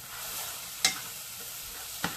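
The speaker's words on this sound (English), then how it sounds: "I'm just going to stir it around until the flour kind of blends in with the butter" Flour is stirred into melted butter in a pan, giving a soft continuous sizzle with two sharp scraping clicks of the utensil against the pan.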